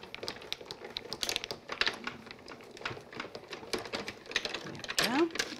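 A manual die-cutting machine pressing cutting plates while making an angel Christmas card: a rapid, uneven series of light clicks and taps, quiet and close, with a brief whirring squeak near the end.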